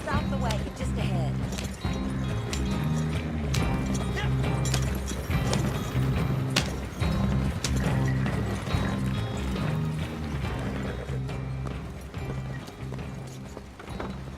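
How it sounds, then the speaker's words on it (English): Horse-drawn wagon in Red Dead Redemption 2, hooves clip-clopping in a steady rhythm with wheels rolling, a close, continuous bed of travel sound alongside a game music score and dialogue. "Stop the wagon just ahead"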